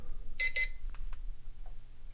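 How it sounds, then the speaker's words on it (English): A timer alarm sounds in two quick, fairly faint electronic beeps in a quiet room, followed by a couple of soft clicks. "Just the timer there."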